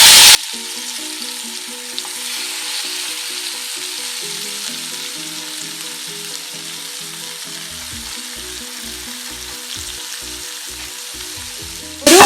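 Spicy masala fish fries in hot coconut oil on a tawa over a medium flame, giving a steady close crackling sizzle throughout, with a pulsing background music bed underneath and no one talking.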